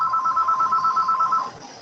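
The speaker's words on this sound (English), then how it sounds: "I have a phone going off" Telephone ringtone warbling in a rapid electronic trill for about a second and a half, then cutting off, fairly loud and close.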